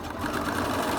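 Close, steady whir of a sewing machine stitching slightly stretched fabric in one brief continuous run, with no voices.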